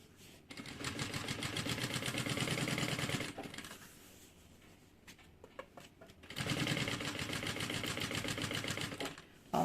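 Sewing machine running at a steady fast stitch while topstitching a bag with lining and a flap, two long runs separated by a pause filled with small handling clicks.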